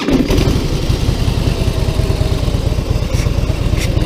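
A Harley-Davidson Breakout motorcycle engine fires up close by and settles into a loud, throbbing idle with an even, rapid pulse that continues throughout.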